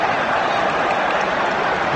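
A football crowd at a Premier League match between West Ham and Everton applauds in a steady, even wash of clapping that holds for the whole moment, with no talk.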